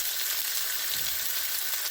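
Chicken pieces frying in a pan give off a steady, close, bright sizzle that stays even throughout, with no talking over it.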